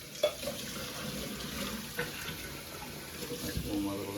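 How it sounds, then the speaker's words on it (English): Running tap water splashes over dishes in a kitchen sink during a final rinse, a steady close rush broken by a few knocks and clatters of crockery, with faint background voices. "So now I'm just going to give that a nice little final rinse."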